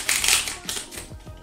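Quick rustling and scraping of objects being shuffled about, a dense burst of crackly friction sounds up close that loosens into scattered softer rubs and taps, with no talking.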